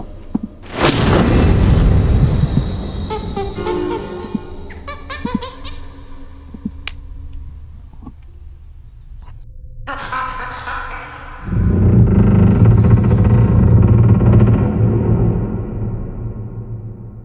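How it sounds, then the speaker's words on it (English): In the horse-riding game Star Stable Online, a creepy mine door opens with a deep boom, then creaking, rattling groans fade before a heavy low rumble swells and slowly trails off. "And a creepy door opened."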